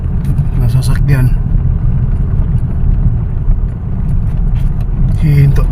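A red car following behind on the road, its engine a steady low rumble throughout with a voice talking over it.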